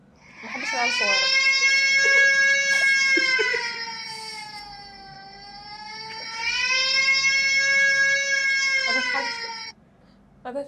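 A wailing siren with a tone like a crying baby, long, loud rising and falling notes that repeat twice with a quieter dip between them, close and alone, ending abruptly.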